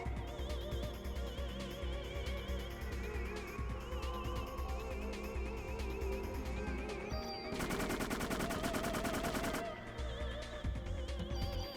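Rapid gunfire from a big gun in the Parasite Eve video game, a dense burst of shots that swells loudly for a couple of seconds over continuous game music and effects.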